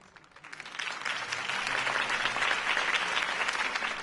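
Crowd applause in the Telltale Batman video game, a dense wash of clapping from many hands that swells quickly from quiet to a steady, sustained ovation.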